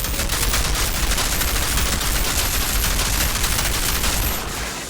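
Rapid gunfire from the video game Outriders, a dense, loud, continuous burst of automatic shots with no pauses, ending in a slight fade.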